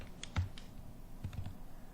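Soft, close keystrokes on a computer keyboard: a quick cluster of clicks, a pause, then another short burst, all faint against quiet room noise.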